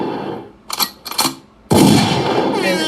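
A shotgun blast sound effect erupts after two short bursts, a loud sudden boom that hangs on as a sustained roar to the end.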